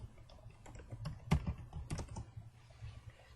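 A computer keyboard is typed on, with a handful of quiet, irregular keystrokes clicking close by in a hushed room.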